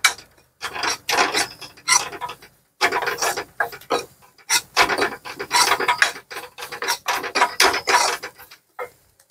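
A spoon scrapes and stirs spices with turmeric in a pan, giving rhythmic rasping strokes in repeated bursts with short pauses, close and moderately loud, with no voices.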